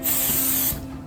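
CRC QD electronics cleaner sprays from an aerosol can in one loud, close hissing burst under a second long, then stops abruptly.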